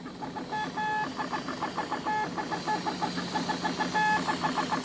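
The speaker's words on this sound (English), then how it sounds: "This inking machine marks each failed circuit with a black dot." An inking machine dotting failed circuits on a semiconductor wafer makes rapid, rhythmic mechanical ticking and chattering in clustered bursts, with short tonal beeps over a steady low machine hum.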